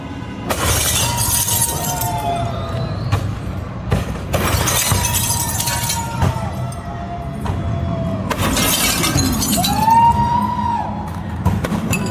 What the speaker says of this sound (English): LAPD headquarters got their windows smashed up in downtown Los Angeles